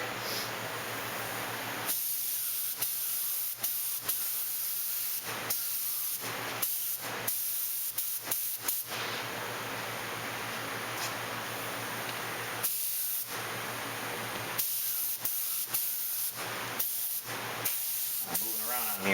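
Airbrush spray hissing while painting the hull of an AMT 1/1000 U.S.S. Enterprise B plastic scale model, steady close bursts starting and stopping in short rhythmic passes over a low constant hum.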